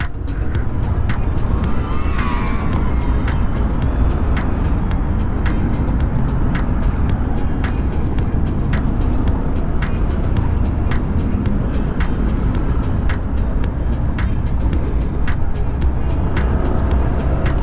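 A Honda Click 160 scooter rides over a bumpy road, giving a loud, continuous rush of engine and road noise with regular faint knocks from the suspension.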